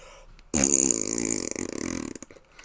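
A person imitates a fart with the tongue, a long buzzing, sputtering raspberry that starts abruptly, flutters loudly for about a second and a half, then trails off in uneven bursts.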